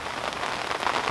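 Steady rain patters on the surface of a fishing lake, a dense continuous hiss of close drops with no voices.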